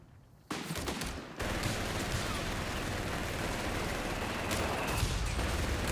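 An artillery barrage in the Company of Heroes 3 video game: a sudden dense roar of shelling and gunfire that swells and holds as a loud continuous rumble with overlapping blasts.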